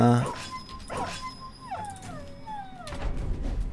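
Dogs in the video game Battle Brothers yelp and whimper in a loud burst of high, sliding cries under game sound effects, with someone talking over the top.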